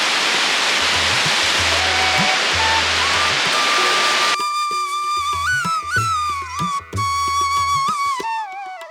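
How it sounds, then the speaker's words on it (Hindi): Saraswati river rushing at Keshav Prayag near Mana village in the Himalaya, a loud, steady broadband roar like a waterfall that drops away abruptly partway through, after which tonal voices and music carry on over quieter background. "तो देखिए यही है सरस्वती नदी"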